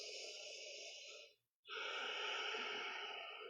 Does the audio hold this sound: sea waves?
no